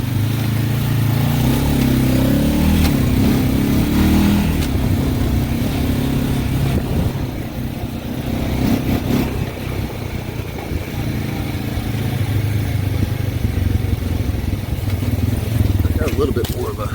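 A 2020 Honda Rancher 420 ATV rides in automatic, its engine giving a loud, steady drone close up that rises slightly in the opening seconds, with talk layered over it throughout.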